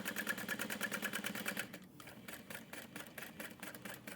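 A sewing machine stitching rows along the edge of a handbag, a rapid even mechanical chatter up close that pauses briefly and then resumes at a slightly slower pulse, with no talk.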